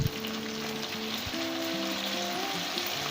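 Okra (bhindi) frying in a pan gives a steady, close, continuous sizzle and crackle throughout, with no voices.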